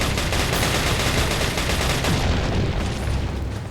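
A TMP submachine gun in Resident Evil 4 fires in a continuous, rapid, loud burst of rattling shots with hardly a pause.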